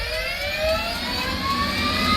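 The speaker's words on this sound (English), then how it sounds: "once the APU switches to start kicking on the engines as well" An F/A-18C jet's APU and engines spin up at close range in a loud continuous whine, rising tones layered over a low rumble, with no voices.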